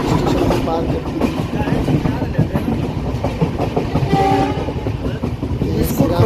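The Howrah–Barmer Express thunders past Shrirampur station at speed, loud and close, with continuous rumbling wheels and rhythmic clickety-clack over the rail joints throughout, and a horn sounding near the end.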